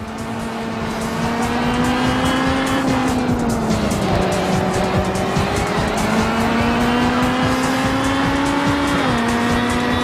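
A race car in the Real Racing HD game drones continuously at high revs, its engine pitch rising and dipping with gear changes as tires squeal, loud and close with no talk.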